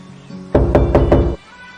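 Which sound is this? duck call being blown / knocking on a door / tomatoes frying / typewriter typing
knocking on a door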